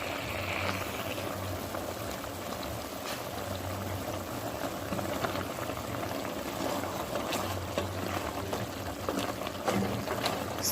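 Curry chicken with Irish potatoes cooking in a covered pot, a steady low bubbling and hiss that stays even throughout.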